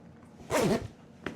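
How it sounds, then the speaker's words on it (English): A drysuit zipper is pulled along in one quick, raspy stroke lasting under half a second, close and clear, followed by a faint knock. "we wanna make sure that it zips well and it closes well"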